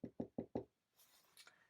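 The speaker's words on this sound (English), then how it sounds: "And so they knocked at the last inn." Four firm knocks on an inn's wooden door in an even, quick rhythm, close and loud, followed by a short silence and then faint, scattered hissy rustling.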